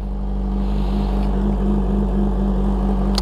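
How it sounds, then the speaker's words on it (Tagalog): Kawasaki ZH2 motorcycle engine idling while warming up, a steady low rumble with a strong even hum that holds level throughout, close and loud, with no talking. "So painitan tayo ng bike."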